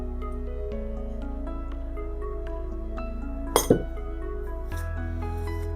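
Glasses clink together in a toast over herbal beer, a quick double chink rising briefly over a steady low electrical hum.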